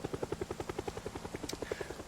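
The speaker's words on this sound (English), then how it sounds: "so helicopter makes a lot of noise" Helicopter in a zombie survival video game, its rotor beating in a steady rapid chop of regular pulses, moderately loud and continuous with a brief higher whine partway through.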